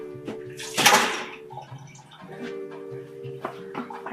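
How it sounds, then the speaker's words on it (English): Ice water poured out of a chilled old-fashioned glass, a brief splashing gush with clinking ice that quickly fades, followed by quieter handling sounds. "we are going to take our ice water and throw it out"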